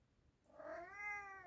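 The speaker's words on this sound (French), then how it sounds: "vous savez, il parle mon chat" A house cat gives a single rising, drawn-out meow, close and clear against a quiet room, with no voices.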